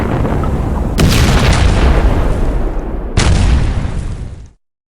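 Heavy booming bursts of submarine torpedo tubes firing, two loud sustained whooshing blasts in succession, the second cutting off abruptly into silence.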